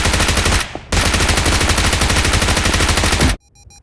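A PP19 Bison submachine gun fires in PUBG Mobile in loud, rapid sustained automatic bursts. There is a short pause near the start, then a long continuous burst that stops abruptly.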